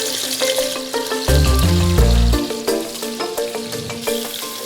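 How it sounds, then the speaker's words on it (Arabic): Onion, chicken and garlic sizzling steadily in a hot pan for a tomato-based sauce, continuous close frying crackle with a brief heavier hiss burst partway through, with stirring and no talking. "توا قاعده نقلب في البصل الدجاج والثوم باش نبدا نحضر الصوص"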